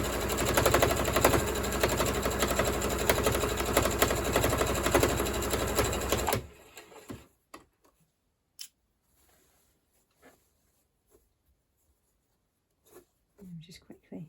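A sewing machine stitches curtain fabric with a fast, steady, loud mechanical whirr for about six seconds, then stops, leaving faint handling clicks and a short stretch of talk.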